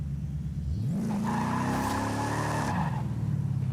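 Cobra American muscle car drifting in a racing video game, a loud engine rising in pitch with a sustained tire squeal across the middle, then settling back to a steady rumble.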